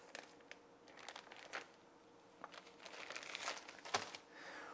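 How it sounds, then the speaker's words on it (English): A plastic bag crinkles and rustles as two lengths of hose and a small inline pre-filter for an Alphion ionizer are pulled out, with bursts of crumpling that swell toward the end. "We'll start by removing the 2 lengths of hoses out of the bag and the small inline pre-filter."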